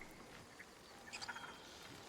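Small bird in Baldur's Gate 3 giving a few brief, faint calls in a quick cluster over a quiet game ambience.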